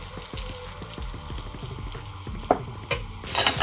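Chopped carrots, beans and green peas fry in Freedom oil for quinoa pulao, making a continuous sizzle. Light clicks and a few utensil knocks come near the end, with no talking.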